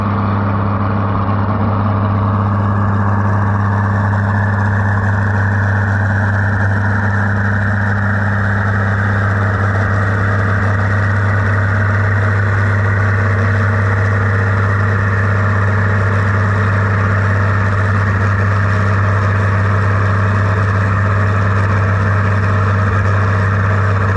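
A Massey 97 and a turbocharged Farmall 806 pulling tractor idle and rumble at a fall tractor pull in Lynden, Washington; the loud, steady, low engine drone runs for a long stretch without talk.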